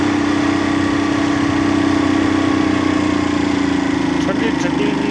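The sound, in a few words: motorcycle engine running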